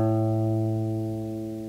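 Two adjacent guitar strings, one fretted at the fifth fret and the next higher one open, ringing together in unison as a single sustained steady tone that slowly fades.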